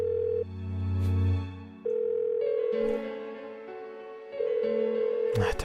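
Phone ringing tone in the Persona 4 video game: a repeating electronic tone in long on-off bursts, several rings in a row, loud and steady, with a short noise burst at the end.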